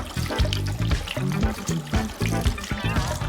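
Tap water runs steadily into a sink as a small plate is rinsed after being scrubbed with a bristle brush, a continuous close trickle and splash mixed with a steady background tone.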